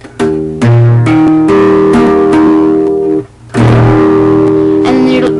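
A strummed acoustic guitar chord fretted at the 2nd fret rings out, struck twice with a short pause between, loud and close with sustained harmonics.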